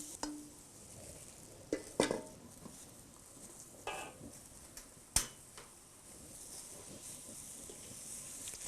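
Grated coconut mixed with other ingredients, for pulut sambal, being stirred in a pan: soft scraping and spatula knocks at irregular intervals over a faint sizzling hiss, with no talk.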